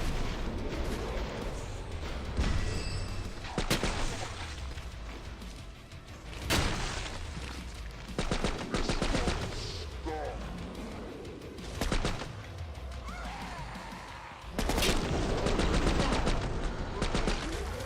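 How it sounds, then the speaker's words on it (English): Repeated gunfire in Killing Floor 3, with dense bursts and sharp reports recurring through the stretch, loud and layered over game noise. "The old man can still shoot."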